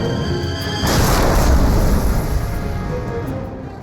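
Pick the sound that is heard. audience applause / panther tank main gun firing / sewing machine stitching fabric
panther tank main gun firing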